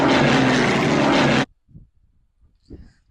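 A Hawker Hurricane fighter's engine roars loud and steady for about a second and a half, then cuts off abruptly to near silence broken by a few faint low thumps.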